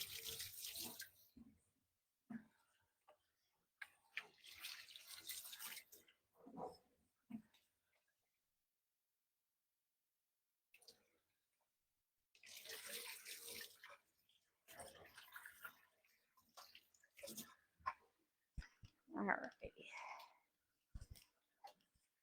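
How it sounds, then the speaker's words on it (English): Tap water runs into a kitchen sink in bursts while hands are washed, with pauses between the spells of splashing flow. "Let me wash my hands."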